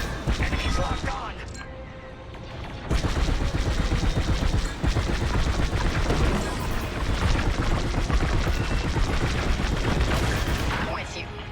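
Dense, continuous blaster and cannon fire from starfighter combat in the video game Star Wars: Squadrons, rapid bursts and booms layered over engine roar for the whole stretch, with a brief dip before a louder barrage.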